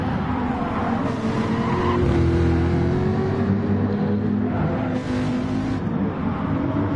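A Jaguar race car's engine roaring in the historic racing sim Grand Prix Legends at Fuji Speedway, loud and steady with rising and falling pitch as it revs through the gears.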